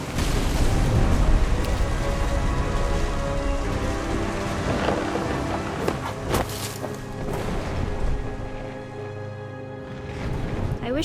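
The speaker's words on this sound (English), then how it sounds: "The thunder sounded much too close and full of angry power." A thunderstorm in the game What Remains of Edith Finch, with steady heavy rain hissing throughout and low rumbling thunder rolling underneath, close and continuous, with no talking.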